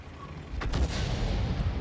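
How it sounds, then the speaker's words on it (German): Artillery fire in the tank game World of Tanks lands as a heavy, rumbling boom, loud and close, with a long low-frequency roll and no talk over it. "jetzt hier die Arti, die ihn hier trifft und auch noch seine Kanone kaputt macht"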